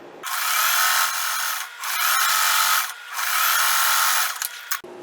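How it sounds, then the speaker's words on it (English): A sewing machine running a straight seam on quilted tote-bag fabric, buzzing in three sustained bursts with brief pauses between, close and fairly loud, with no talking. "I am just going to sew all the way down."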